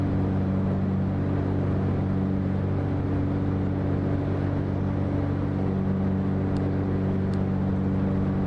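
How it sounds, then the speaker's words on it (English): A Cessna 404 Titan in a flight simulator drones along on its one remaining left engine after losing the right one, giving a steady, loud, unbroken cabin hum with a low rumble and no speech. "Just lost the right engine."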